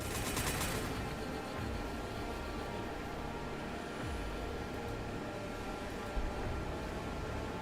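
Units in the Warhammer 40,000: Gladius strategy game fire on a hover tank, producing a steady wash of distant, muffled gunfire and rumble that barely lets up.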